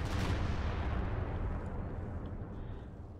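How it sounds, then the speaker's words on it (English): Railway artillery shells landing in Company of Heroes 2, a heavy booming blast that rumbles and slowly fades into a long roaring tail, loud and alone. "Railway artillery getting called in by Helping Hands."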